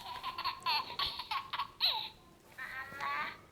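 A toy baby doll plays its recorded laugh, a run of bright giggling bursts with short pauses, fairly faint and with no talk over it.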